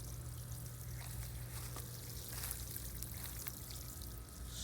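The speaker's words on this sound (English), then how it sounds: "So we'll get this watered in really well here" Water poured steadily onto the soil around a newly planted small persimmon tree in winter, a continuous close splashing and trickling with no talk.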